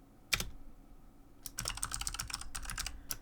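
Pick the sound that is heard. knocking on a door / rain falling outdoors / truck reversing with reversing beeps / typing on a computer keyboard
typing on a computer keyboard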